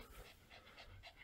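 Dogs panting rapidly after a snowy walk, a steady rhythmic huffing of several quick breaths, close by and fairly quiet with no talk over it.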